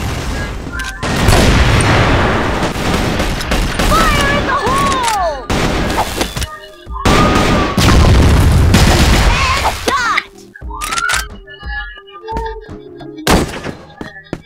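Gunfire in a competitive shooter video game: a dense run of loud booms and thuds, clustered in heavy bursts with brief lulls, mixed with game effects and a voice talking throughout.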